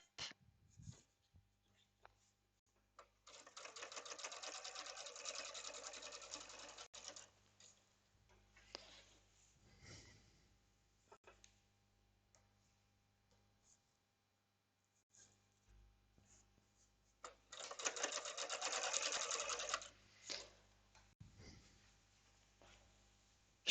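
A domestic sewing machine runs in two sustained bursts while stitching through thick layers of trouser fabric, with faint handling noises and pauses between runs.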